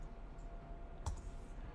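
A single comma key press on a computer keyboard gives one soft, brief click near the middle of an otherwise quiet room tone.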